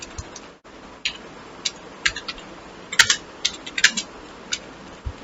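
Computer keyboard typing, sparse individual key clicks spaced irregularly with a small flurry near the middle, close and fairly crisp over a quiet background hiss.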